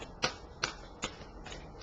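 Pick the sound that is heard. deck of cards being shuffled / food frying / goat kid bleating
deck of cards being shuffled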